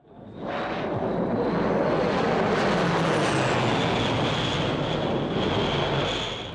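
Small planes fly low over farm fields spraying poison, a steady, loud engine drone that swells in and holds close throughout without any talk.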